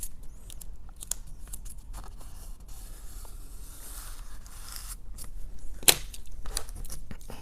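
Blue painter's tape is pulled off the roll and torn beside a small countertop ice cream freezer, making scratchy peeling rasps and one sharp rip near the end, close by and quiet, with no talk.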